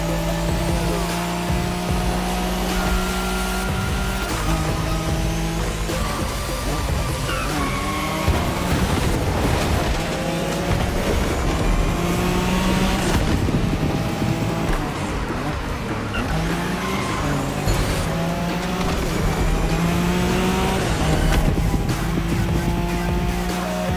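A Nissan Skyline race car in The Crew Motorfest screams along at high revs, its engine droning steadily with tire noise and shifting pitch, loud and continuous throughout.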